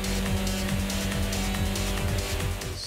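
Honda Civic race car engine in Gran Turismo on PlayStation 1, a loud buzzing high-revving drone with rhythmic gear-shift dips and tire squeal, close and continuous with no voices.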